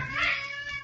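A single drawn-out cat meow from a radio drama sound effect, close and clear, rising then falling over about a second with no talk over it.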